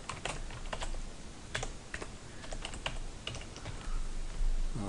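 Login details are tapped out on a computer keyboard, a close, uneven run of quick key clicks with short pauses, no voices.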